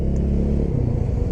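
A TVS Apache 200 4V motorcycle rolls through busy market traffic, its engine giving a steady, close, low rumble with slight revving swells, heard alone without any voices.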